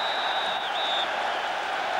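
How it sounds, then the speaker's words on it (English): Large football crowd at Ajax v Rangers, a steady broad roar of cheering and applause filling the stadium, continuous and moderately loud from a distance, with a faint high whistle-like tone early on. "Being urged on by this large crowd"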